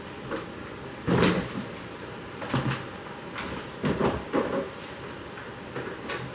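Someone rummages through a kitchen pantry, with door knocks, rattling shelves and thumps of containers shifted about in irregular bursts, close by and without talk.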